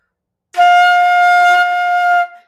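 A single sustained flute note F, clear and steady, held for nearly two seconds, close and alone.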